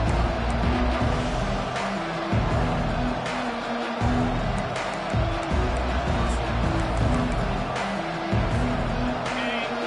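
A college football video game stadium crowd roars and cheers steadily, a dense wall of noise with sustained tones running through it and bursts of louder excitement.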